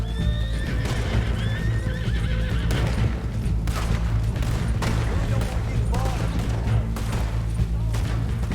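Fast clip-clop of horse hooves galloping under a rider in Red Dead Redemption 2, with repeated whinnies and neighs, distant gunfire cracks, and a low rumbling game score underneath.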